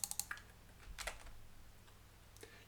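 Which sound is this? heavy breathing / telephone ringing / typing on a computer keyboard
typing on a computer keyboard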